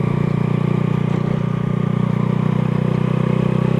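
Motorcycle engine straining as it pulls away in second gear, a loud, steady low rumble with rapid pulsing clatter, close up and unbroken.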